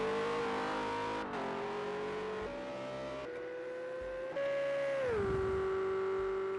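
Race car engines at Watkins Glen in Project CARS 2 on PS4, a near continuous drone rising in pitch through gear shifts, then dropping sharply near the end as a car slows, with no talk.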